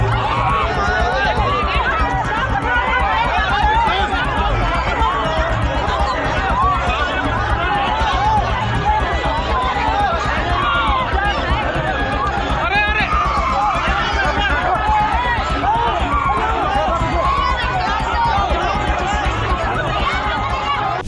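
A huge, dense crowd at the Shiv Mahapuran Katha in Shatabdi Nagar, Meerut, surges and shouts in a stampede, with a constant loud babble of many voices and running feet throughout.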